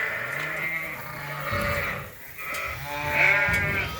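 Lambs bleating inside a sheep barn on a farm, several overlapping wavering calls close by, one rising louder near the end, with no talking.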